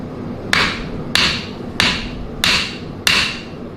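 Five sharp strikes from a small hammer, each snapped at the end of the swing while forging a washing-pole katana, evenly spaced and close, ringing briefly after each blow with no talk.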